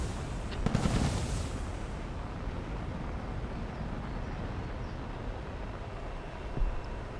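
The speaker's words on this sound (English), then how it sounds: "Oh, that's a missile." A missile in the War Thunder combat game lets out a loud rushing blast followed by a steady, dense roar that fills the scene with continuous heavy rumble.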